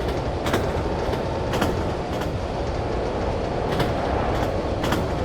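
A train runs on rails in the railway simulator game Running Train during an evening mainline service, with a loud, steady rumble and rhythmic clickety-clack wheel beats about every second, heard alone without talk.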